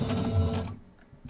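Home sewing machine stitching quilt block pieces for a Kimberbell Main Street pillow wall hanging, a short steady motor whir for about half a second, then it stops and leaves a quiet pause before a small click.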